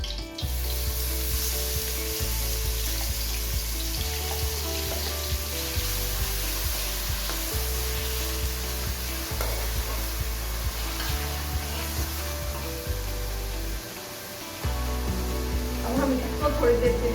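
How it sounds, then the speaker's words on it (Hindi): Chopped garlic, onion and ginger fry in a pan with a steady, continuous sizzle, while a droning tonal sound runs underneath the whole time. "अब हम इसमें ऐड करते हैं लहसुन, प्याज, अदरक"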